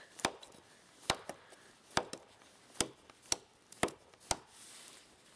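Sharp chops from a small hand chopping tool, not a machete, striking wood on a solo snowshoe outing, about eight crisp knocks at uneven intervals, close and clear against quiet surroundings.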